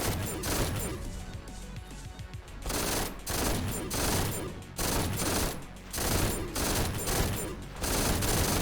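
Thunderlust gun in the video game GTTOD: Get To The Orange Door firing in rapid, dense bursts, loud and close, with short gaps between volleys and crashing impacts.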